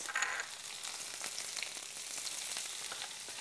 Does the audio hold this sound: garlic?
yes